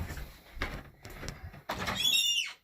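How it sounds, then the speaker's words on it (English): A squeaking household door gives a rising, creaky whine near the end, after a few muffled thumps and shuffling handling noises close by. "My door's squeaking."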